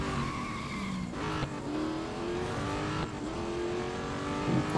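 Tires squealing as a car drifts through blind corners in a racing video game, a sustained loud screech over a steady engine drone, shifting pitch as the slide continues, with no voices.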